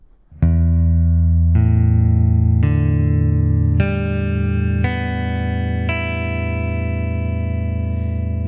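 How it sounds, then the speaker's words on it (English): Open strings of a left-handed guitar ring out one at a time, six sustained notes each starting with a clear pluck and overlapping the one before, loud and close with no talking. "take all the fingers off the frets and play each string one by one"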